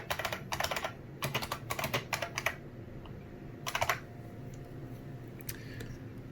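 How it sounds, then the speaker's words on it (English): Bursts of computer keyboard typing on a Raspberry Pi 4 setup, rapid uneven clusters of close key clicks separated by short pauses, no voices. "here, I'll type it out"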